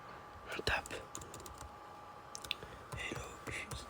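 A login being typed on a computer keyboard at a Windows 7 library workstation, with scattered crisp key clicks in short bursts and faint whispered speech underneath.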